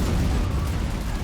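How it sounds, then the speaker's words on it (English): Cannon fire landing during a video game siege of Pleven in the Russo-Turkish War, heard as a dense continuous rumble of distant explosions and booms blending into a low, steady roar. "Cannon fire coming in."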